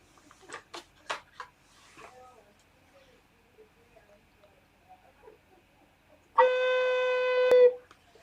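An alto recorder plays a single steady note B, clear and pure, held for just over a second after several quiet taps and faint handling clicks.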